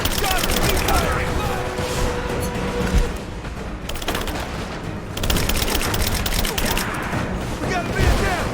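Rapid automatic gunfire rattles through a Rise of the Tomb Raider combat scene, loud bursts broken by short lulls, with shouted voices mixed under the shooting.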